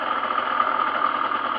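A 2007 Derbi GPR Nude motorcycle engine idling steadily, a loud, close, even buzzing drone with a slight rapid pulse and no talking.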